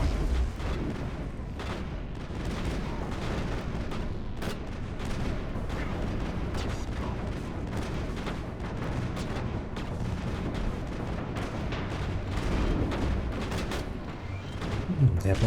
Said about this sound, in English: There are bombs everywhere, eh?